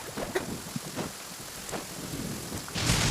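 A video game thunderstorm rolls through with low rumbles of thunder and a steady patter of rain, then a louder burst of rain or wind swells at the end.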